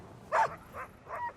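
Sled huskies at a North Pole ice airport base give three short, fairly faint yipping barks, the first the loudest, over a low outdoor hum.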